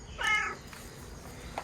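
A single short cat meow sounds at a middle distance in a French garden, standing out briefly above a quiet outdoor background with faint distant noises.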